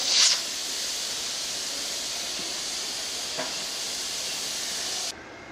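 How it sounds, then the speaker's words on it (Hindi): After beef nalli has cooked, a pressure cooker vents steam in a steady, loud hiss that runs for several seconds and then cuts off abruptly. "भाप को ऐसा ऐसा निकलने देंगे।"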